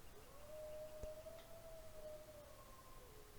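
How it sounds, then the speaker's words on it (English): A lone wolf in the snowy wilderness of the survival game The Long Dark lets out one long, steady howl that holds and then fades, faint and distant beneath a constant wind-like hiss. "I can hear you, wolves."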